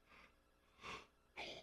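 A pet named Shelby lets out soft, breathy yawning sounds, three faint airy bursts close to the microphone in a quiet room with no talk.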